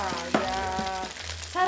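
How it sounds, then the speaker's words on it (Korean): Beef brisket fat being stir-fried in a pan, with a steady close sizzle and a few scraping stirs, heard under a speaking voice. "양지살에 붙은 기름만 따로 썰어서 살살 볶아줍니다."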